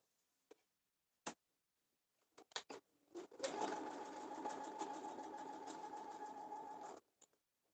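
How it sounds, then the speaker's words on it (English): A sewing machine runs steadily for about four seconds, stitching granny star quilt block pieces with light thread, preceded by a few sharp clicks and short bursts as the fabric is positioned, then stops with a final tick. "I am trying to be as careful as I can not to sew off these edges because I am using a light thread"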